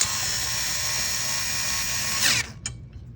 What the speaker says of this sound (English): we'll go back with our screwdriver or our electric screwdriver and tighten these all up